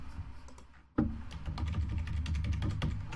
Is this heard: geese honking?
no